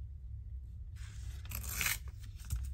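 Paper being torn off a craft tag, a short raspy rip lasting about a second over a low background hum, close and quiet.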